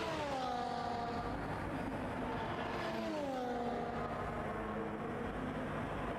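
A race car engine howls down the Qatar straight in a sim racing game with DRS open, its steady high-pitched whine rising and falling through gear changes, loud and continuous with no talk.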